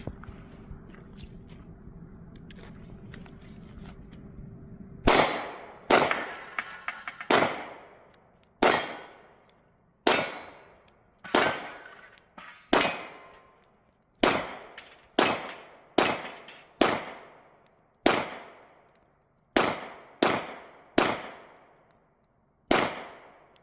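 Taurus TH40 pistol shots striking steel knockdown targets and a steel plate at an outdoor range, about fifteen sharp, loud cracks each followed by a ringing metallic clang, spaced irregularly about a second apart.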